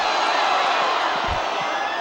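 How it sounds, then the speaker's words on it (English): Crowd at a 2016 PIAA 1A girls' high school state championship soccer game lets out a broad, steady ooh and ahh, a continuous wash of many voices with a brief low thump near the middle. "getting some oohs and ahs out of the crowd here in the final 6:45"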